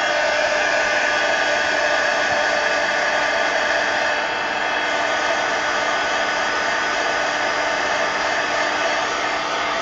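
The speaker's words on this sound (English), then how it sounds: "heat gun this and dry this" A heat gun blowing hot air to dry ink on a mixed media poster, a loud, constant whirring hiss with a high whine, running unbroken and close throughout.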